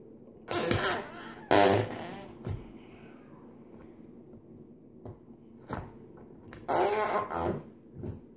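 Flarp slime squeezed by hand gives off loud, wet fart-like squelches in about four bursts, two close together early, a few smaller squishes in the middle and a longer one near the end, with quiet gaps between.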